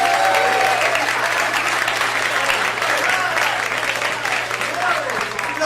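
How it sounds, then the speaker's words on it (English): An audience at a New York comedy club applauds as a comedian is introduced. Dense, loud, sustained clapping fills the room, with a few cheers mixed in. "Please put your hands together for Gary Manfrey"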